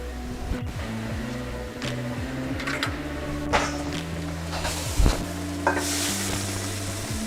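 Ground pork stir-frying in a hot wok, a steady loud sizzle with scraping and stirring strokes throughout, a few sharper clatters, no talking.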